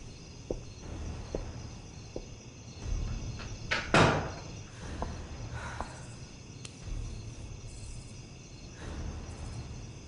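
Near the middle of a quiet room with faint insect-like chirping, a door closes with a sharp, loud thud. Softer knocks and clicks come before and after it.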